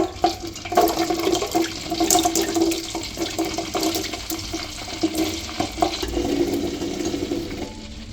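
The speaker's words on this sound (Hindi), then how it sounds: "तो अब ये गूंदे डाल देते हैं हमारे ऑयल के अंदर।" Fresh gunde fruits tip into hot mustard oil, setting off a loud, continuous sizzling and bubbling frying hiss that swells and settles over several seconds, with no talking.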